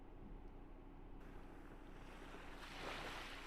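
Ocean waves from the game Hakuoki: Edo Blossoms, a steady low rushing wash with a breezy hiss that swells briefly near the end, heard alone with no talking.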